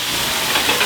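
Shrimp flambéed with cognac in a hot pan, a loud, steady hiss and sizzle of flaring liquor and frying close up, with no pauses.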